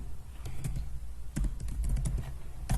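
An SQL query being typed on a computer keyboard: a close, moderately quiet series of irregular key clicks in small bursts, with brief pauses between strokes and no talking.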